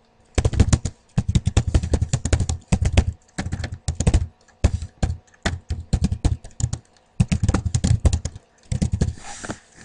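Keys clatter on a computer keyboard as a script comment is typed, in quick close bursts of tapping separated by short pauses, loud and alone without talk.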